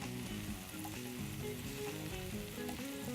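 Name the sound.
browning food quickly in a hot pan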